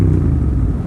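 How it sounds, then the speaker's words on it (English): Motorcycle downshifting without rev matching, giving a brief loud low engine rumble with shuddering clutch judder, heard close and alone for under a second. "if I try to shift down without rev matching, oops, see, you get some of that."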